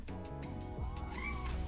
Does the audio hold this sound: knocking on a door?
no